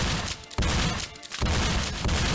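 Rapid video-game gunfire from a pair of guns firing together, a dense, loud, continuous burst of shots with two brief breaks, in an indie game-jam game.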